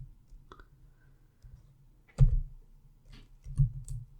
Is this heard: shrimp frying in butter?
no